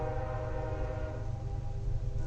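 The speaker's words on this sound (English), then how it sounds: "Daggone train." Continuous loud rumble of a train going by, a dense low roar with steady tonal hum above it and no speech over it.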